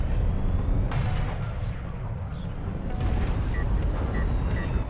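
Friendly-fire gunfire and explosions from a battle in the real-time strategy game Homeworld: Deserts of Kharak, a dense, loud rumble of distant booms and crackling shots running continuously, with no voices.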